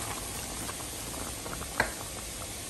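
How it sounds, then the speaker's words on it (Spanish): Pot of diced potatoes with tomato purée and a little water coming to a boil, a steady soft bubbling hiss with one brief clink partway through, no talking. "lo vamos a dejar hervir, que se empiece a cocer"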